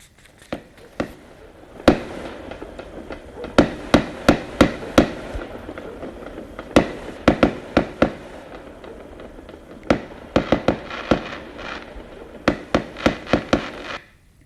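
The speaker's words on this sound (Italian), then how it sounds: "qualcuno ha festeggiato sparando fuochi per alcuni minuti" Fireworks set off for several minutes crackle and bang in scattered bursts, loud and sharp, with quiet gaps between clusters of reports.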